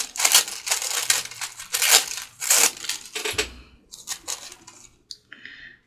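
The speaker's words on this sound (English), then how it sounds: "let's go ahead and tear a little bit of this" Paper being torn by hand for a junk journal: several sharp ripping strokes in quick succession, close and crisp, thinning into shorter tears and small rustles toward the end, no voices.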